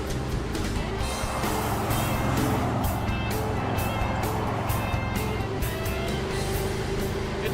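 A 1964 Chevrolet Malibu cruises down the road, a steady engine hum mixed with broad road and wind noise heard from inside the car, with no clear change in speed.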